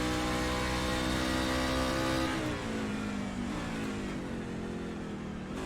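Race car engine heard from on board during the Texas Tussle 125, loud and continuous, holding a high rev then dropping in pitch as the car slows into a corner, with no talk over it.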